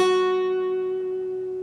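A single guitar note from a song's intro, played on the B string at the 7th fret, rings out steadily and slowly fades, fairly quiet and alone.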